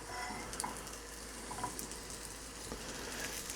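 Sausage, cut in half, warming in leftover butter in a pan gives a steady, soft sizzle and light crackle throughout, close and moderately quiet with no talking.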